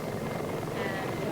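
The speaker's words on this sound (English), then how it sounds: "Ignore that Soviet helicopter gunship." A Soviet helicopter gunship flies overhead in Ethiopia, its engine and rotor making a continuous rumbling drone that stays steady and fairly strong for the whole moment.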